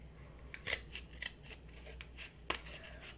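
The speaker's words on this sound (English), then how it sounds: "And then we're gonna kind of cut little triangles along here." Scissors snip small skinny triangles into a cardboard toilet paper roll, a quiet, close series of crisp irregular cuts with two sharper snips standing out.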